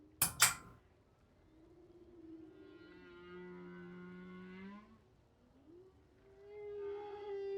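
Whale calls play in the video game Date Everything: long, low moaning tones that rise and fall with harmonic overtones, opening after a couple of brief clinks and fading between calls.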